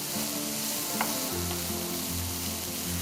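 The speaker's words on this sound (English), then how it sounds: "Now you need to saute the onions till they are a little bit translucent, little bit soft." Onions sautéing in hot oil until soft and translucent, a close, steady sizzle with a light tap of stirring and no voices over it.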